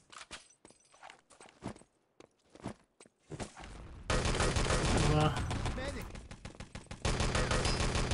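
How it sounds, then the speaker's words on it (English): Footsteps in the video game Enemy Territory, a run of brief, quiet steps that gives way to loud bursts of machine-gun and rifle fire, with a voice talking over parts of it. "Footsteps are being heard."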